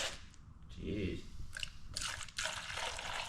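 Liquid pours from a jug and spills with splashing, sloshing and trickling under people talking nearby, with a lower gurgling pour near the start, then brighter splatters.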